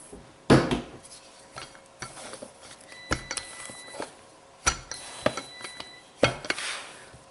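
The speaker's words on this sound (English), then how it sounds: "that's a coffee pot" A coffee pot handled on a kitchen counter while making a feta tomato pizza, giving several sharp metallic clinks and knocks at irregular intervals, close and fairly loud, with no talking.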